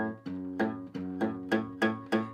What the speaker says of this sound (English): So sometimes you might get a muted sound on the 0 if you're keeping your finger on the 2nd fret of the 6th string.